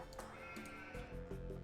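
Sheep bleat repeatedly in a medieval strategy game, several wavering, nasal calls in quick succession over a steady low game hum.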